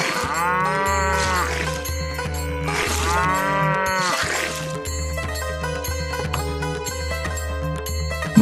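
A cartoon cow moos loudly in several long, drawn-out calls over background music, with a voice speaking between the moos.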